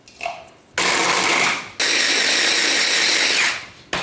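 Small food mixer whirring in loud bursts as it blends palets bretons butter biscuits into crumbs, a short start and then two long continuous runs with brief stops between.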